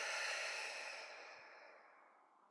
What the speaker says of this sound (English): a clearing, cleansing exhale, let that breath go